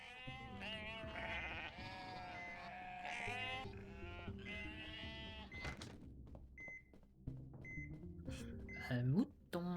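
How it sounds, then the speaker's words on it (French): Sheep bleating in the video game Unmetal, a short wavering bleat near the end, following game music with harmonic tones, beeps and someone talking over it. "Un mouton."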